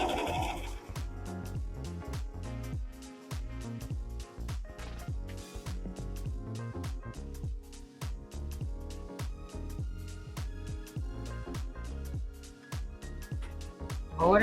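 A sewing machine stitching fabric for a handmade bag, a close, rhythmic mechanical chatter of needle strokes running in steady bursts with brief pauses, loud and continuous across the stretch.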